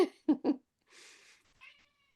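Domestic cat meowing indoors: three short, close vocal bursts, then a longer, fainter drawn-out mew and a brief trailing call.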